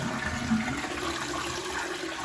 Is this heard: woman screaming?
no